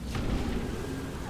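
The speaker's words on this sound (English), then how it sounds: "Gandalf shoots off a peculiar firework at the target" A magic firework bursts against a fort in the fantasy strategy game Rise of the Witch King, giving a short, booming blast with a crackling rumble that fades over about a second.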